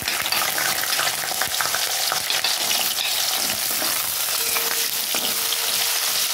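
Potatoes sizzling and frying in hot oil in a home kitchen, a steady, close crackling hiss with occasional stirring scrapes throughout, no voices.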